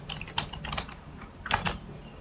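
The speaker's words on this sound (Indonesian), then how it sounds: "di sini ketikkan aja perintah Ionic" The Ionic command is typed on a computer keyboard as a string of close, crisp key clicks, uneven in rhythm with a short burst near the end and no voices over them.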